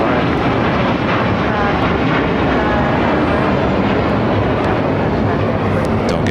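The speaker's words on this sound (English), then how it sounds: "America West Retro landing here on the south side." An America West airliner in retro livery lands on the south side at LAX, its engines producing a loud, steady broadband roar that holds throughout.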